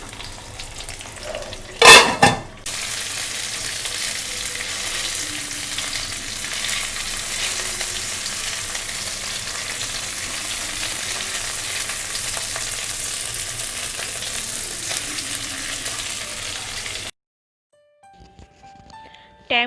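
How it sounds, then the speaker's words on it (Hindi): Food frying in a non-stick pan for a Bengali mustard hilsa recipe, a steady loud sizzle with stirring scrapes, a brief clatter near the start, then the sizzle cuts off abruptly near the end. "इसको चला रही हूँ ताकि ये नीचे की तरफ से स्टिक ना कर जाए"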